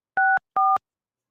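Two short touch-tone telephone dialing beeps, each a steady dual-pitched tone, sound close and clear one after the other while a call to McDonald's is placed, with silence afterward and no voices.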